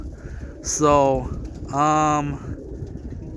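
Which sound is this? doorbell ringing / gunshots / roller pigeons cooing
roller pigeons cooing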